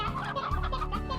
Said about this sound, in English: We'll leave a couple hens.